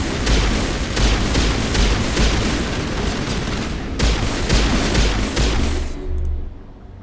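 Rapid bursts of pistol gunfire in Mass Effect, loud and dense, with repeated sharp cracks over a heavy battle din of other shots and booms, cutting off near the end.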